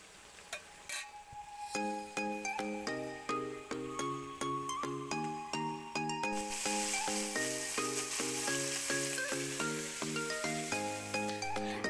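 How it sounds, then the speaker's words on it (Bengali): Ridge gourd with poppy seed paste sizzles in a pan, a steady frying hiss that grows louder midway beneath rhythmic background music. "পোস্তটা এখন রান্না করে নিচ্ছি"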